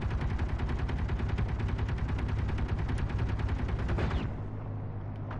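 Rapid automatic gunfire in the video game Escape from Pertam, a loud, fast, evenly pulsing burst that runs for about four seconds, then stops and leaves a low rumble.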